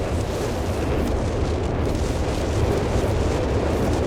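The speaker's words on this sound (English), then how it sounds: "Oh, artillery called in here. And it is in fact the Syrian artillery barrage, looking to break up the Allied positions here on the west end of the bridge" Artillery barrage in Company of Heroes 3 striking positions near a bridge, a dense continuous rumble of overlapping explosions and booms, loud and sustained with no distinct gaps.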